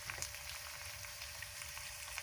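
Bitter gourd (karela) frying in a pan, a faint steady sizzle with soft crackling spits throughout.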